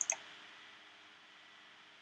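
A single mouse click on a Sign In button for the BidRx medication savings system, a brief sharp tick at the very start followed by quiet steady background hiss.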